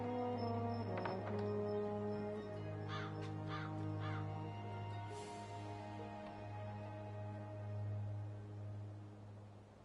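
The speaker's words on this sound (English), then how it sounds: "That filthy, chattering fowl must be over there somewhere." A crow in the PS4 video game Dreamfall Chapters lets out several harsh caws, a single call followed by a quick run of three, over a sustained low tonal drone.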